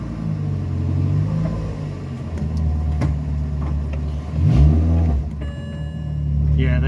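A car driven slowly inside a home garage, its engine rumbling steadily at close range with a brief surge of revving midway, while a voice talks over it.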